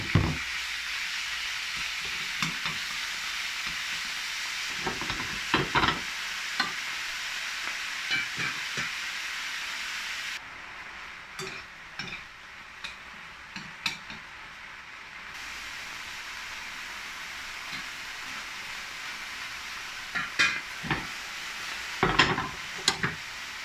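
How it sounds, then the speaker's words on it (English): Beef for a Szechuan stir fry is dry-fried in a pan, with a steady close hiss of sizzling broken by scattered sharp crackles and scraping knocks, some louder near the end. No one speaks. "Dry fry the beef on both sides"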